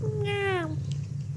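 A cat gives one clear, slightly falling meow lasting about half a second, heard over a low steady background hum.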